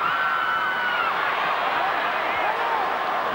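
Fijian fans in a stadium crowd cheering during a 2008 rugby league World Cup semi-final against Australia, a loud, sustained roar of voices filling the whole stretch with excited whoops rising within it.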